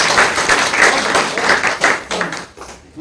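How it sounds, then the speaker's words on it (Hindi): Loud, continuous applause and clapping from a large audience at an RCM business meeting, steady for about three seconds with no talk over it. "ताली एक बार जबरदस्त"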